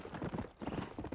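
Horse hooves galloping in the Red Dead Redemption video game, a rapid, steady clip-clop rhythm of repeated hoof strikes, close and loud throughout with no talk over it.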